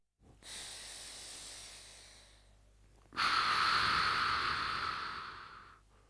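Two long, forceful exhalations during a hip stretching exercise for trochanteritis, the first softer and the second louder and breathier, both close and clear with no talking.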